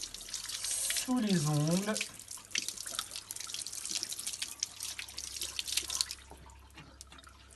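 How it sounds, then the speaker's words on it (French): Tap water runs steadily into a sink as hands are rinsed and rubbed under the stream, a continuous splashing hiss with a person speaking French briefly near the start. "on peut passer les mains sous l'eau"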